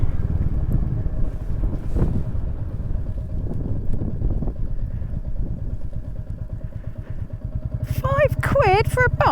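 A motorcycle engine runs steadily throughout, close and loud with wind buffeting the microphone on a UK solo touring ride, the bike misreading as in neutral; a voice talks over it near the end.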